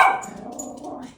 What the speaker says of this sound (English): whenever they see someone outside, they bark